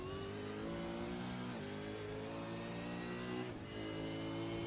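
V8 Supercars on the final lap at Imola, a loud, steady engine roar with the pitch climbing through the gears and a brief dip near the end, no voices.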